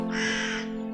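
A single harsh, drawn-out crow caw rings out in the video game A Nightmare Fairytale, loud and close, standing alone for about a second.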